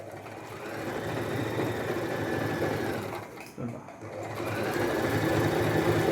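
A Singer Start base-model sewing machine stitches in a steady, fast whirring drone, close and continuous, with a brief pause and restart partway through.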